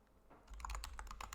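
Rapid keystrokes clatter on a computer keyboard, a short close burst of uneven taps.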